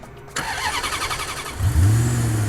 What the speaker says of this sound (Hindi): गाड़ी स्टार्ट हुई